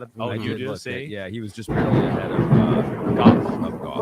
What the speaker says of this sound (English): Ooh, that thunder's cracking out here.